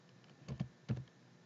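Two short bursts of computer keyboard keystrokes, close and quiet, as an email address is entered, with brief pauses between the clicks.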